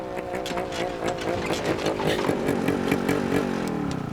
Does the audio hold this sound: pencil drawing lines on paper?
no